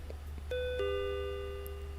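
A shop doorbell chimes as a customer walks in, two bright electronic tones, the second lower and ringing on, sounding clearly over a low steady hum.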